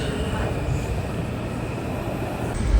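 Washington Metro Rail train in motion, a steady broadband rumble and rolling noise filling the car with a faint voice underneath and a brief brighter squeal near the end.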